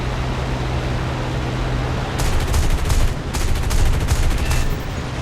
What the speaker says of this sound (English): the M10 cannon's got a very high fire rate